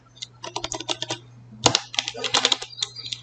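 Rapid bursts of keystrokes on a computer keyboard while entering Python code, clustered clicks with short pauses between runs, close and clear with no voices.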